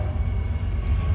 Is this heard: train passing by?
yes